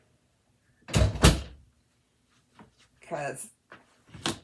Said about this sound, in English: I'm going to close this door for a minute.